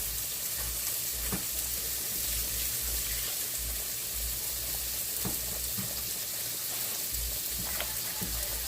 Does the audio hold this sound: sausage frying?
yes